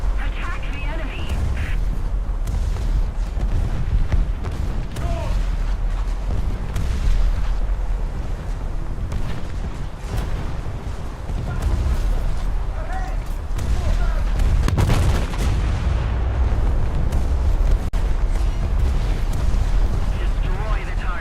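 Naval shellfire from HMS Repulse in a naval warfare video game, with heavy booming gun blasts and explosions over a continuous loud roar, while players talk throughout.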